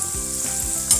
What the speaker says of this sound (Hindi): इसको हल्की आंच में ही सेकिएगा।